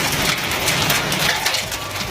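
Heavy rain from strong afternoon storms in Metro Atlanta pours down steadily, a dense, even hiss of drops hitting surfaces at close range with no voices.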